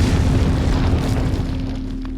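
A bomb explosion in the Resident Evil 4 video game: one loud, deep, rumbling boom that fills the clip and slowly decays, heavy in the low end, with no talk.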